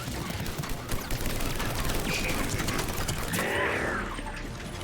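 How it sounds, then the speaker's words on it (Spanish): Gunfire in the video game Mass Effect 3, a dense, continuous rattle of rapid shots layered with mechanical clatter, fairly loud and unbroken across the whole stretch, beneath ongoing game sound. "¡Ay, le estaba disparando a Stanley"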